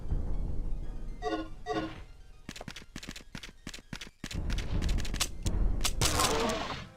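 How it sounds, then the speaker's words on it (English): Pistol shots ring out in a video game, several sharp cracks in quick succession and then a denser burst of firing, all close and loud. Other game sounds fill the gaps between shots. "Let's bust out the pistol."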